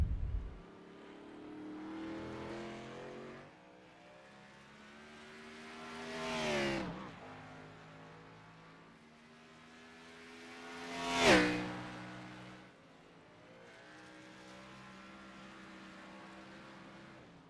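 A race car engine in iRacing on the Charlotte Roval, swelling and fading through the bus stop chicane and back straight: a steady buzzing drone with rising and falling pitch, two louder surges as the car passes close, no talk.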